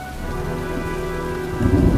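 A storm in the video game Heavy Rain gives steady loud rain with deep thunder rumbling and building toward the end, with no voices.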